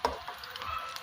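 Eggplant slices frying in a pan of oil give a soft, steady sizzle with faint crackles and a small clatter at the start, heard close and alone.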